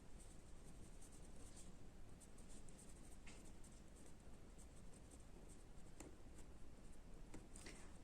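Chalk or marker writing on a classroom board, faint repeated scratchy strokes and taps in a quiet room, with no speech.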